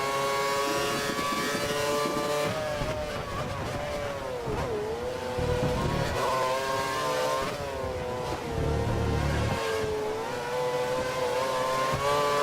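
A race car in a racing video game set at Silverstone accelerates hard, its engine whining up through the gears in rising sweeps with brief dips at each shift, loud and continuous.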